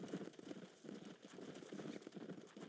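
Horse hooves clip-clop at a steady walking rhythm in the Red Dead Redemption video game, soft and fairly quiet, a continuous run of muffled thuds with no speech over them.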